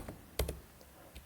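A few quick keystrokes on a computer keyboard while entering a WordPress admin address, sparse clicks with one louder tap cluster, close and quiet, no speech.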